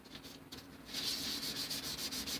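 Wet sanding a motorcycle fairing by hand with rubbing compound, a steady close scrubbing hiss that swells and grows louder partway through, with no talking.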